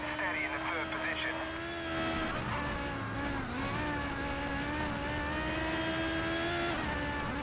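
A race car engine in the GRID racing game, taken through a set of corners at full speed, holds a loud, steady high-pitched whine with strong harmonics, dipping briefly in pitch mid-run before climbing back.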